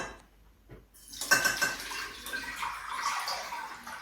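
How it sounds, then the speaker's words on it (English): Dandelion infusion water is poured through a strainer in a kitchen, a steady splashing trickle with light clinks of a pot or utensil, close and continuous for several seconds after a quiet start. "just going to strain the dandelions"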